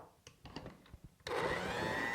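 An electric mixer beating brownie batter in a kitchen, starting abruptly after a few light clicks and settling into a steady, loud, whirring hum with a high whine.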